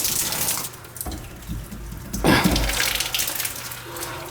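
Water gushes steadily from a split, leaking outdoor shower fitting damaged by frozen pipes, a loud continuous hiss and splash with a few sharper spatters, close to the listener and with no talking.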